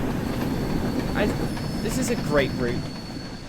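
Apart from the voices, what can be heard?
train pulling into station in video game Train Sim World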